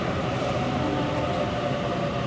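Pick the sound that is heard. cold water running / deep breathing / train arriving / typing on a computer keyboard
train arriving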